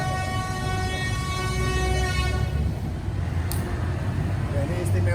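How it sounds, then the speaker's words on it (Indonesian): A train rolls through the middle of a street in Solo (Surakarta), Indonesia, at an unguarded crossing with no barrier, right past the district court; a loud steady rumble with a sustained horn tone that fades midway, people faintly audible nearby. "Jadi di tengah jalan lewatlah sebuah kereta dan tidak ada palangnya."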